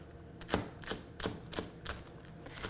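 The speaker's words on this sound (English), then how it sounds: "we're just going to try to chop this into smaller pieces" A knife chops green onions on a cutting board for a healthy bánh mì turkey burger mixture, six or seven crisp, evenly spaced chops close by, with no talking.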